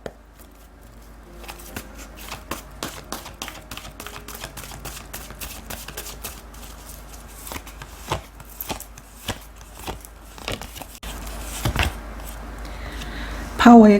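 Tarot oracle cards being shuffled by hand, a long run of crisp, quick papery clicks and slaps in an uneven rhythm, close and fairly quiet, with a louder rustle near the end.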